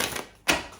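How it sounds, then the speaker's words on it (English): Tarot deck riffled in a single quick shuffle, a soft papery flutter, then a brief pause and a short sharper burst of cards snapping together, close and fairly quiet. "I'm going to do one more shuffle"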